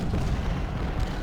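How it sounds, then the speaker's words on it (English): Cannons fire in a dense, continuous rumble of overlapping booms on a Civil War battlefield at Brandy Station in Ultimate General: Civil War, loud and heavy without any break. "And all the cannons firing right now is gonna be"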